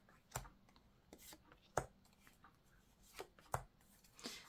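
Tarot cards are shuffled by hand, giving a few soft, scattered riffles and taps, quiet and close, with faint speech in the background.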